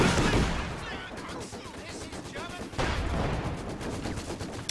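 StuG assault gun and other weapons firing in Company of Heroes 2, a loud burst of gunfire and blasts opening the passage, then scattered shots and another heavy volley, with battle noise continuing steadily.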